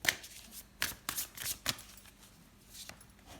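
Tarot cards are shuffled by hand in a series of quick riffling, slapping bursts with brief pauses between, close and fairly quiet, with no talking over them.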